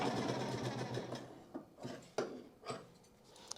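A sewing machine runs in short stitching bursts while sewing a diagonal joint in fabric piping, with a steady mechanical rattle and brief pauses between passes, close and fairly loud with no talking.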